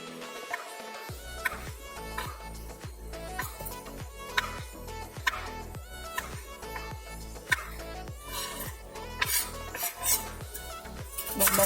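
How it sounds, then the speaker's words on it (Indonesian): A knife cuts ingredients into cubes on a cutting board for ayam kuluyuk, a steady run of close, sharp chopping knocks at a brisk even rhythm, with faint background noise and no talk. "lalu kita potong kotak juga seperti ini"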